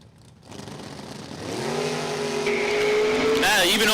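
Drag racing cars, including a Nova, launching at Numidia Dragway: engines rise from quiet into a loud, climbing roar that builds steadily as the cars accelerate away, under a commentator's voice.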